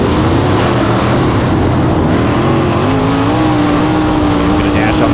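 USAC race cars pull away at the start of a race at Lincoln Park, a dense, constant engine roar that holds loud throughout, with the pitch of the engines rising gradually as the field gets underway.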